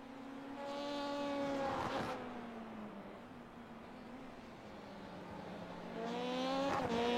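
Race cars on a track in the iRacing video game, engines droning and shifting pitch as cars pass and accelerate, with a louder rising whine near the start and again toward the end, heard without talk.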